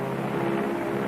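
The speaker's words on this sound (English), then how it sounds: "Now the plane wings its way toward ground zero." A propeller bomber drones steadily overhead as it flies toward ground zero, a loud, even engine hum holding alone for a brief moment.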